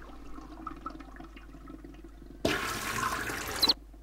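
In the Chaos on Deponia game a toilet is flushed with its button, giving a sudden loud rush of water that lasts just over a second after a quieter stretch of room tone.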